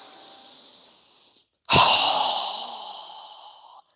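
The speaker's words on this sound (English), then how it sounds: "Strong exhale." A single strong, forceful breath pushed out through the mouth during a yoga breathing exercise. It bursts in loud and close after a brief pause and fades gradually, following a softer steady breath.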